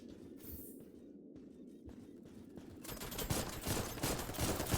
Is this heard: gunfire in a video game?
yes